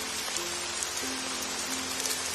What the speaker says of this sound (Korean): 잠시 후 숲속에 많은 비가 내리기 시작합니다.